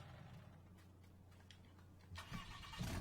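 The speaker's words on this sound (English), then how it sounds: "Get the Cummins turned on" A Cummins diesel engine in a 2019 Ram 5500 truck starts up: a steady low rumble runs, then it cranks and catches with a louder, rougher burst near the end, close and fairly loud.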